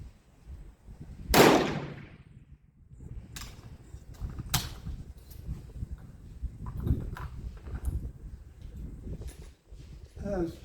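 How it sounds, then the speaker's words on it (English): A Remington Rolling Block rifle in 7mm Mauser fires cast bullets outdoors: one sharp, loud shot rings out, followed by quieter clicks and handling noises as the action is worked, with faint background sounds. "All these shots are really way too fast for a cast bullet."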